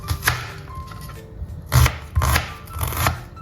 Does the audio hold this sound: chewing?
no